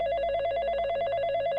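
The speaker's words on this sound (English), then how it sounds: "My phone rang." A telephone rings with a steady electronic trill, loud and close, continuing unbroken without any voices.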